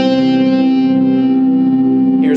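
A single sustained C note, the root of a C major 7 chord, rings out with a heavily processed, distorted and reverberant electric tone, holding steady for a couple of seconds alone.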